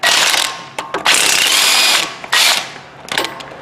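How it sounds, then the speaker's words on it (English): A ratchet with a 17mm socket loosens rusty brake caliper bracket bolts on a Hyundai Sonata's front brakes, making loud, rapid clicking bursts in three long runs separated by short pauses. "Yank off the old bracket with the 17mm"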